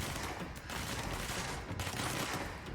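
Sustained submachine gun fire in the video game Control, dense rapid bursts packed together into a continuous loud barrage that barely lets up across the short stretch.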